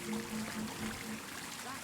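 Water splashing and pouring steadily from a fountain in the middle of a medieval city square in Kingdom Come Deliverance II, a continuous close trickle with a faint tonal hum and no talk.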